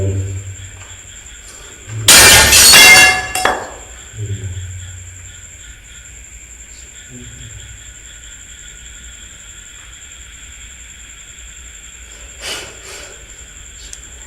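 Glass shatters in a room and crashes to the floor in one loud, close burst lasting about a second and a half, with a few fainter scattering bits after, then a quiet background hum and hiss.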